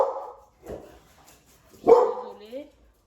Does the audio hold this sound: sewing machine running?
no